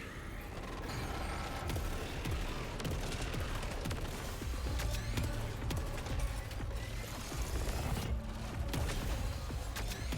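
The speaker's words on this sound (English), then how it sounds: "this alt fire is just a straight up bomb" Alt-fire bomb blast from a weapon in the video game Saros, heard as dense mechanical clatter and rapid bursts of gunfire-like crackle that run continuously and loudly through the whole stretch, with no voices.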